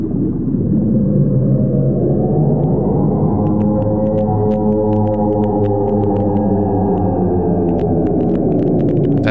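The Bloop, an underwater sound thought to be an iceberg cracking, is a long, loud, low rumbling drone with layered tones that rise slowly, and sharp ticking pops begin partway through.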